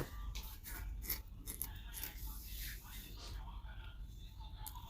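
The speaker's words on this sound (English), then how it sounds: "So now I'll be cutting it out, cutting the pants out." Scissors snip through trouser fabric in a steady run of close, soft crisp cuts with brief pauses, set against a faint low background hum.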